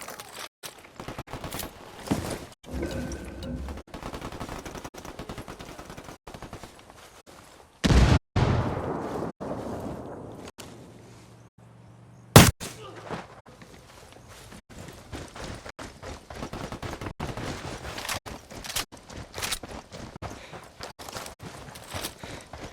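Gunfire in Ghost Recon Wildlands during a firefight with cartel members: a scatter of sharp shots spread through the fight, with one louder burst standing out midway, set against steady game ambience.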